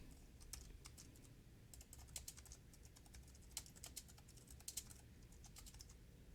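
Rapid typing of code on a computer keyboard, a steady patter of close key clicks with a few sharper strokes, heard alone against a low background hum.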